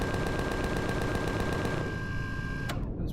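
Gatling guns fire a steady rapid stream of shots in Empyrion Galactic Survival on an ice planet, the rattling bursts continuous and loud before stopping abruptly near the end, followed by a short sharp report.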